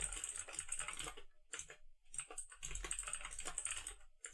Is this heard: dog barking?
no